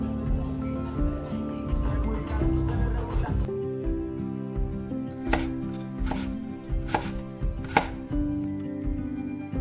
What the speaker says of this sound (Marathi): ये चला, थोडीशी चॉपिंग करायची.